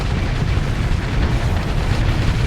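Missile and bomb explosions in the space combat game Starsector (Nexerelin) merge into a loud, continuous rumbling roar that stays dense and steady throughout, with no voices.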